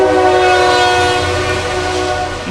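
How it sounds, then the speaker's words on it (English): A loud, sustained train horn blares as a train passes close by, its steady tones droning over a low rumble of wheels and rail noise. "Here's the train. Let me see if we can hear it."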